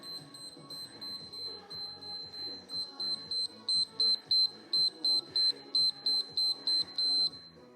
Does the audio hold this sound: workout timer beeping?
yes